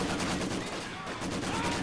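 Rapid machine gun bursts crackle in a Company of Heroes 2 battle, the MG firing from a wooden church amid dense, continuous combat noise, with someone talking over it.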